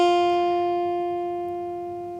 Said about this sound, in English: if I were to use my first finger on my fret hand to play the first fret on the first string